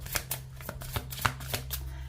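Tarot cards being shuffled and drawn during a French taroscope reading: a brisk run of crisp card flicks and taps, about eight quick strokes close up, over a low steady background hum.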